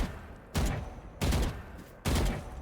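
Vandal rifle firing in Valorant, three separate bursts of gunfire with brief gaps between them, loud and close with no talk.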